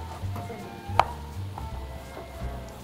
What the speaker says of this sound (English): all you do is just chop them up to whatever